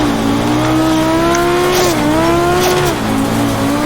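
A Group B Audi rally car in the AMS1 racing game climbs a gravel hillclimb, its engine droning steadily with pitch dipping and rising through gear changes, loud and continuous with tire noise beneath.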